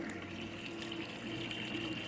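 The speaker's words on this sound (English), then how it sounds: "then that bucket's gonna waterfall back into this tank" Water pumped up into a bucket spills back down into an IBC tote aquaponics tank, a continuous close splashing trickle with a steady pump hum beneath it.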